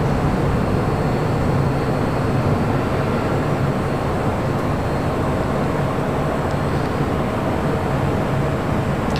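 Jet aircraft taxiing at LAX airport, a continuous loud engine roar and whine that holds steady throughout with no break, heard from nearby.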